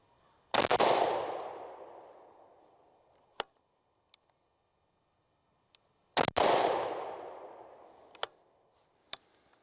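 Two sharp, loud rifle shots from an IWI Tavor 7 firing old hollow-point rounds, each with a long echoing decay, separated by several seconds and followed by faint clicks and ticks.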